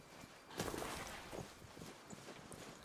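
Horse hooves clop softly while riding in the Disney Dreamlight Valley video game, a quiet uneven patter of steps with several character horses bunched together, faint and without talk.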